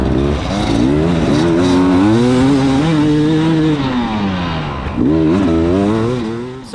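Enduro dirt bike in third gear on a grass track at a 2020 sprint enduro, engine revving hard and continuously close by, pitch rising and falling with throttle and dipping briefly before climbing again.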